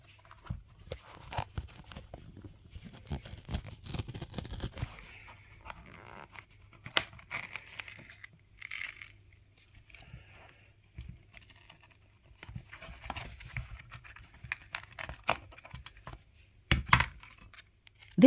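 Glue is pried and broken around a Fiat 124 Spider touch screen, giving close, irregular crackling, scraping and brittle snapping in uneven bursts with brief quiet gaps.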